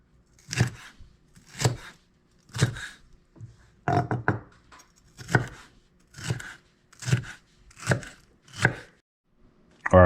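A knife slices and dices jalapeno peppers on a cutting board, making about a dozen crisp, close chops spaced roughly a second apart, with a quick double stroke near the middle and no talking.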